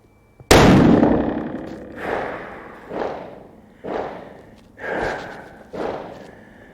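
Single sharp, loud shot from a Savage Impulse rifle chambered in 300 Win Mag, followed by a long booming echo rolling back in several fading waves outdoors.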